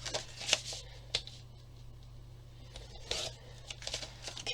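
Paper being cut off with scissors while making an envelope book, a few brief crisp snips and rustles spaced over several seconds, close and fairly quiet.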